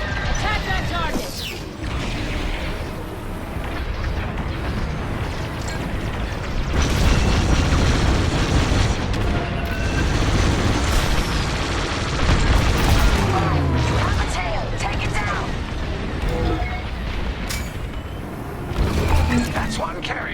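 Space battle in Star Wars: Squadrons with ships blowing apart: repeated heavy booms and crackling blasts over a mechanical engine din, loud and close, with voices talking throughout.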